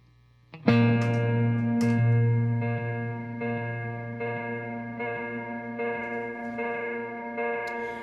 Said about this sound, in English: What I'm gonna do is play a single B flat note with an octave